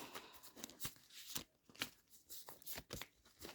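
Mary Magdalene oracle cards being shuffled by hand, soft repeated riffling and flicking bursts in an uneven rhythm, close and quiet.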